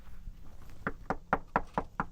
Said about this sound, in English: and just knock on it